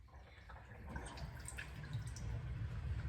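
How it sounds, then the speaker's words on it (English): Felted knitted items being rinsed in a sink of water, giving soft close-up dripping and sloshing that grows slightly fuller toward the end. "So now I'm just going to give them a rinse."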